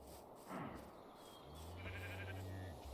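Sheep bleat in a block-building survival video game, a couple of nasal bleats sounding at moderate distance over a steady ambient background.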